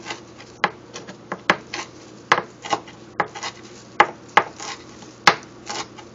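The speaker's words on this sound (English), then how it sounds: "I have some fresh parsley right here. A whole lot of fresh parsley. I'm going to go ahead and chop that up." A kitchen knife chops a large pile of fresh parsley on a cutting board with quick, irregular taps, some louder thuds among lighter ones, close and steady with no voices.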